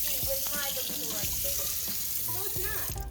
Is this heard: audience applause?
no